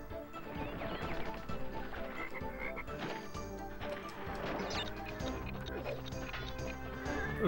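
A frog croaks repeatedly in Crash Bandicoot Warped over busy game music and crate-smashing effects, fairly quiet overall with varied sound effects layered throughout.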